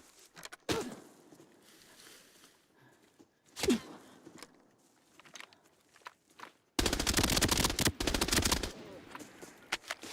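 Video game gunfire: a few isolated single shots early on, then a loud sustained automatic burst lasting about two seconds, followed by scattered faint clicks and footsteps-like taps.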